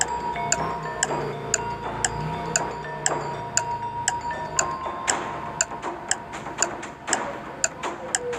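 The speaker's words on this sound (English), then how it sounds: "Time is ticking." A clock ticking steadily at about two ticks per second, crisp and close, over a soft background of music-like tones, with no talking.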